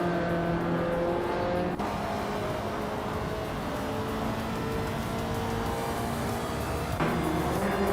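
Race cars in a racing video game, including a 1984 Audi Sport Quattro, with engines roaring loud and close throughout, steady revving broken by two abrupt gear shifts.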